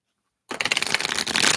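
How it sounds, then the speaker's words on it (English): Tarot cards shuffled in quick, close riffling bursts after a half-second of silence, a dense papery flutter that runs on steadily to the end. "Let me just give these one more shuffle"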